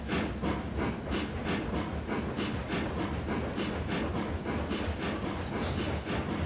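A train rolls steadily in the game Ultimate Admiral Dreadnoughts, its wheels clicking over rail joints in a regular clickety-clack beneath a constant hiss, loud and continuous with no voices.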